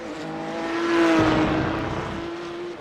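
A Porsche Cup race car in a video game racing around a circuit, its engine tone swelling as it nears and then holding a steady, loud drone with no talk over it.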